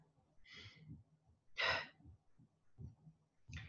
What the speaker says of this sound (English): So just take a breath